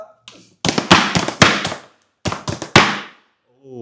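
Tap dance steps, a treble bang, Billy bump and treble toe, ring out as sharp percussive taps in two quick close bursts with a short pause between, loud and near, with no talk over them.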